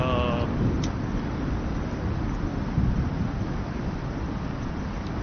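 A storm with wind and thunder in the video game Icarus, a dense, steady roar of wind and low rumble that fills the scene without letup, loud and continuous, with a faint tone fading out at the very start.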